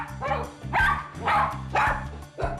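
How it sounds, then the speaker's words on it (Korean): A dog named Bongsun barks loudly and repeatedly indoors, with several sharp, close, forceful barks in a steady rhythm and short gaps between them. "진짜 크게 짖을 때 한 102 정도 나와요."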